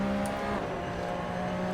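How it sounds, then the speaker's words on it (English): Ferrari Formula 1 car in Assetto Corsa with a high, sustained engine whine holding steady, a slight dip in pitch partway through, loud and close with no talking. "I am going to take one of the Ferrari Formula 1 cars out"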